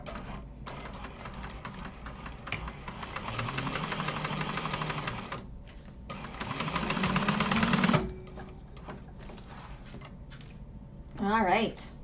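A sewing machine stitches fabric for a lined garment in bursts, running about five seconds, pausing, then racing again for two seconds, with backstitching. Clacking mechanical whir sits under occasional talk in a class setting.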